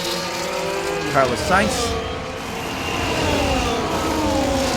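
Ferrari Formula 1 car in an EA Sports F1 racing game at the Dutch Grand Prix, Zandvoort, entering the pits: steady engine drone with a couple of brief higher passing whines, under a commentator's voice throughout.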